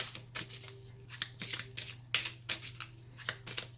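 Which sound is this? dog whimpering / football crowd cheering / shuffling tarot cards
shuffling tarot cards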